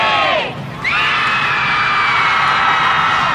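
Students scream out of dormitory windows during finals week, a crowd of voices yelling and whooping together, briefly dipping then swelling back into a sustained, distant wall of shrieks and cheers.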